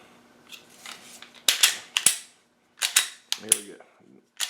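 Walther P99 pistol trigger reset, several sharp metallic clicks in small clusters with gaps between, close and crisp, with a faint low mechanical rattle near the end.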